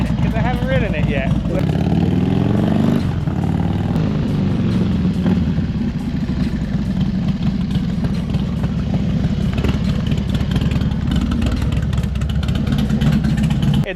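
A Harley-Davidson Dyna motorcycle runs close by with a steady, loud engine rumble that revs briefly near the start, as it is ridden off a driveway into a shop. Someone talks over the engine throughout.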